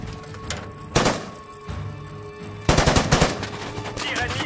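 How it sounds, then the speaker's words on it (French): Enemy gunfire in a battle: sharp bursts of automatic weapon fire, one burst early and a long rattling volley later, over a rumbling, noisy backdrop. "Tir ennemi à 10h."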